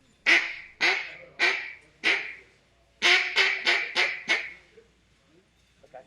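A duck call is blown in two bursts, four loud nasal quacks then five more in quicker succession, close and clear, with a couple of faint clicks afterward in a quiet room.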